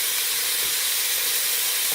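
A pound of ground beef sizzles steadily in a hot pan, a continuous close hiss with no talk over it.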